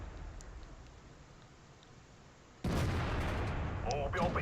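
A WZ-111 heavy tank cannon fires in a game, a single loud broadband boom cutting in suddenly after a few seconds of low rumbling background noise and sustaining into a dense roar.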